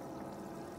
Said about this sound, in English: So water is now coming in